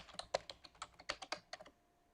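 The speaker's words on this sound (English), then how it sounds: "So enter your password." A password being typed on a computer keyboard at an admin login prompt: about a dozen quick, crisp key clicks in an uneven rhythm, close and alone, stopping shortly before the end.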